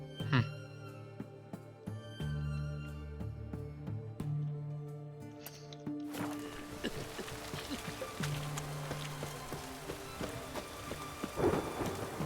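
A thunderstorm with steady pouring rain in The Witcher 3, a constant rain hiss taking over after a musical passage, with low rumbles and occasional voices.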